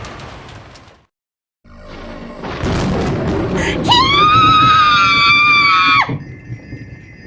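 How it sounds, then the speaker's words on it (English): A piercing female scream from the visual novel Umineko no Naku Koro ni, rising loud after a brief silence and a swelling rumble, held as a shrill sustained tone for about two seconds before cutting off into lingering noise. "Jessica's piercing shriek ran out"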